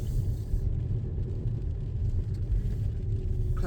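A learner driver's car takes a corner with a steady, close engine rumble and road noise, continuous and even throughout with no speech.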